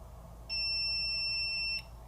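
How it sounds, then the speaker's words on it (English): Steady electronic beeping tone from a magnetic tool security device's motion sensor alarm, a single continuous alert lasting over a second, loud and close against a quiet background. "you have an alert, and then it's going to notify you on your phone"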